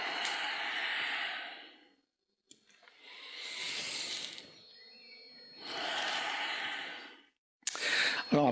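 Slow, deep breathing during a standing-balance yoga session: long, loud airy inhales and exhales alternating in steady cycles separated by brief pauses, close to the microphone.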